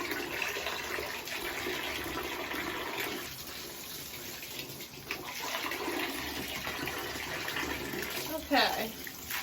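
Water sloshing and pouring in a bathtub as a bag is soaked in cleaning solution, a steady watery wash with a louder splash near the end, under a person talking.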